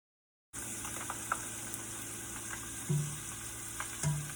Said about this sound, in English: Make sure that everything's dry because you're going to drop this in hot oil.